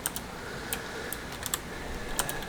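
Mechanical keyboard keys clicking in irregular bursts of taps over a steady rain-like background hiss, fairly quiet and close, with no voices.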